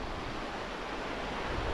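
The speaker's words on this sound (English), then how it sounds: "the wind's coming off the sea towards my tent" Wind blows in off the sea across a beach wildcamp at Fairlight Glen, a steady, full roar of gusting air and surf with no voices.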